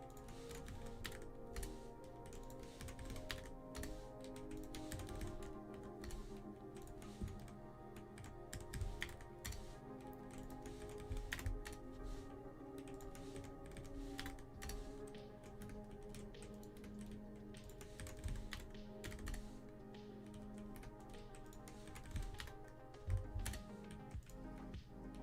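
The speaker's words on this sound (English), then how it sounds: "Is it annoying that my keyboard is going off in the mic?" A computer keyboard clatters almost nonstop, picked up by a nearby microphone during a live Minecraft redstone computer build, with rapid uneven bursts of clicking keystrokes and short pauses between them.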